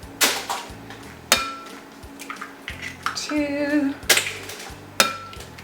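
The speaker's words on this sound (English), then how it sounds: "So now I'm going to put in the eggs." Eggs are cracked into a bowl of cake mix with sharp taps against the rim, several distinct knocks spaced out, under a woman counting aloud in a kitchen.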